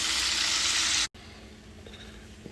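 Chicken wings fry in oil in a regular pot, giving a bright, steady sizzle that cuts off abruptly, leaving a quieter hiss afterward.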